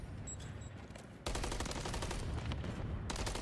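Rapid bursts of automatic gunfire from a competitive Call of Duty League match crackle loudly and continuously, with a sharp onset partway through and dense rattling shots carrying to the end.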